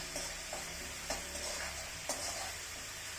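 Tomato fries in a pan for palak paneer, a constant close sizzle with a few soft stirring knocks spaced through it and no talking.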